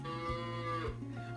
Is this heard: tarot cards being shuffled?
no